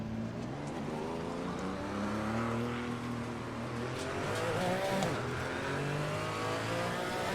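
In the video game Assetto Corsa Competizione, the engine of a Porsche Cayman GT4 race car revs and shifts through changing pitches, with a steady moderate drone and brief tire squeal, and no talking.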